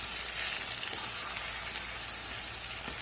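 Chopped capsicum and potatoes fry in a pan while being stirred, producing a dense, steady sizzle that stays even from start to finish, with no voices.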